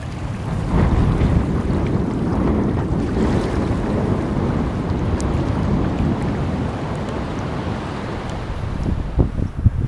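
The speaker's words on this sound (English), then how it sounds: "Wind is gnarly out there." Strong, gusting wind roars steadily over an open wilderness river, buffeting the microphone with broad rumbling noise, mixed with lapping water and a few faint clicks near the end.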